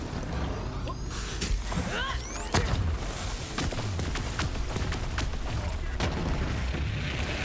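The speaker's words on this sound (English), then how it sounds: "just a few shots from the lob with the Phaseslam anointment and he is absolute toast" Shots from the Lob gun with the Phaseslam anointment in Borderlands 3, a steady barrage of booming blasts and pops amid dense, loud combat noise with whooshing effects, near and continuous throughout.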